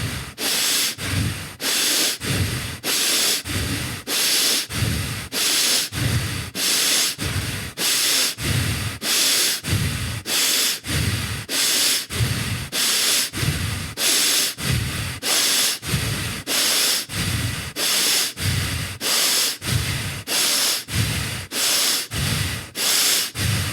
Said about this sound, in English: we're going to get ready for rapid breathing. Here we go. In and out really, really fast.